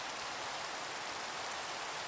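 Rain falls in a Minecraft shader pack, heard as an even, soft hiss of steady rainfall with no variation and no voices.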